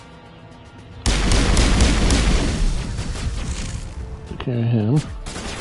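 Sudden loud booming gunfire and explosions erupt in the Mass Effect video game, a heavy sustained barrage that tapers slightly, with brief spoken words and an electronic warbling tone near the end.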